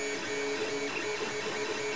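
A 3D printer head shuttles back and forth in a steady mechanical whir with faint stepper-motor whine, continuous and close, with no voices.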